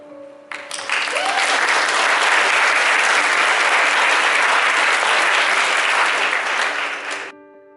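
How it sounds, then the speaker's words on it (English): Audience at a middle school eighth-grade awards ceremony breaks into loud, sustained applause that swells quickly, holds steady for about six seconds, then tapers off. "I think you should clap again."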